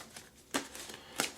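Tarot cards being shuffled by hand, with two quick, close riffling bursts separated by a short pause and faint rustling in between.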